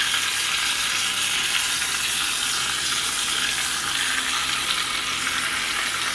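Chicken sizzles steadily on a grill pan right after being flipped, a dense crackling hiss that holds level and close throughout, with no talk.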